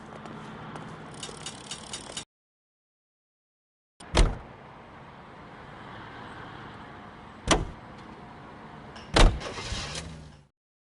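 A car in the L.A. Noire video game: door clunks and power-window whirs punctuate a steady engine drone as the vehicle drives, with sharp bangs at intervals and a brief stretch of silence.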